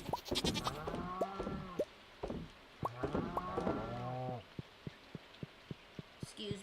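A goat bleats repeatedly in Stardew Valley, wavering nasal cries in quick bursts over a few seconds, followed by a series of sharp, evenly spaced ticking clicks, moderately quiet.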